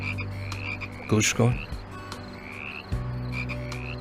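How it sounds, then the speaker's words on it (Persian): Frogs croak in a chorus with repeated rising calls, and a couple of louder, nearer croaks stand out over a steady low background. "به چی؟ قورباغه ها؟ آره قورباغه ها."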